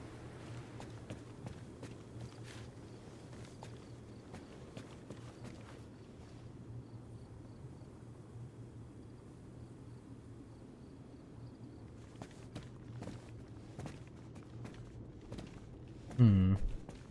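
Running footsteps on the ground in Arma Reforger, a steady quick patter of soft steps continuing throughout at close range, with one louder thump near the end.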